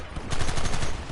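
A Gatling gun in Red Dead Redemption fires a loud, close, rapid burst of shots in a rattling rhythm for about a second.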